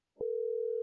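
A single telephone ringing tone on an outgoing call starts after a brief click and holds as one steady, clear electronic note to the end.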